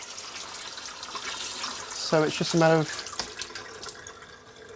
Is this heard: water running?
yes